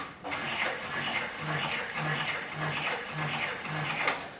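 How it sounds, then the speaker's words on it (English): Heavy-duty leather sewing machine run in reverse, stitching about seven stitches back through very thick harness and skirting leather; a steady, rapid mechanical clatter with a regular low thump on each stitch, close and continuous, with faint voices in the background. "place the machine in reverse so you can see how reliable the stitching is in reverse"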